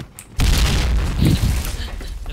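A loud grenade blast in the shooter game Point Blank erupts suddenly after a quiet moment, a deep booming explosion with a second rumbling surge that trails off into low roar.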